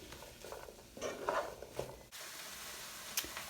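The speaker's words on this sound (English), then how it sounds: "I'm just going to stir all this around and just let this cook until your onions begin to soften" Onions and mushrooms cooking in a pan for vegan meatless meatballs, stirred with a utensil: soft scraping and clinking strokes over a low, steady sizzle, with a couple of sharper taps.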